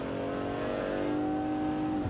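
A fast car's engine revving and accelerating while driving in Watch Dogs Legion, a loud steady roar with rising engine tone, continuous and close with no voices.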